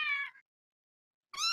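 A feral cat meows twice outside a door, two loud, close, drawn-out cries separated by about a second of silence.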